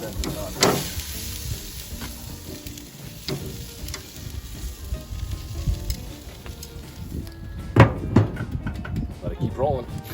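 Steak sizzles and crackles on a hot grill with a steady fry, with occasional scrapes and clatters as the meat is turned, fairly quiet and close.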